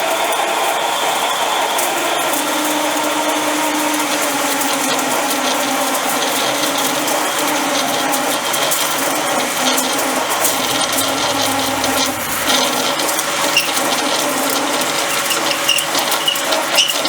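A sharp drill bit cutting metal on a BSA B50T motorcycle part, a loud, steady grinding whir with a rattling mechanical edge that holds throughout and shifts slightly partway through, with no speech.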